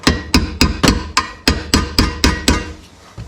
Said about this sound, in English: I take a flathead screwdriver, give it a little tap